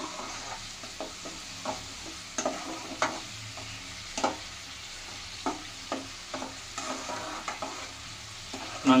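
Garlic frying and being stirred in a pan while making tomato thokku, with soft sizzling under repeated scraping stirs at a steady moderate level, no voices.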